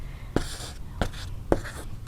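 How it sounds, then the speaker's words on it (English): A glue stick rubbed across paper while building a handmade card: three short scratchy swipes, evenly spaced, close and quiet over a soft background hum. "I'm going to take a little glue stick"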